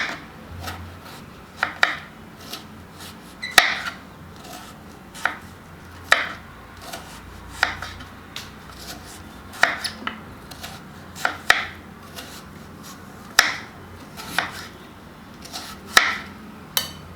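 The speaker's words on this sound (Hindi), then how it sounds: "तो ये हमारा कद्दू लगभग कट ही गया है।" A knife chopping pumpkin into small pieces on a board, with sharp, irregular cuts repeating roughly every second and sounding close and clear, with no talking.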